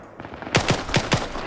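Four sharp gunshots crack out in quick succession during a match of a video-game firefight, loud and close, each shot trailing a short echo over a low background hum.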